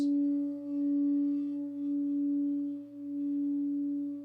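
A steady, sustained low C sharp singing bowl tone rings clearly with a bright overtone above, gently pulsing in loudness, with no talking.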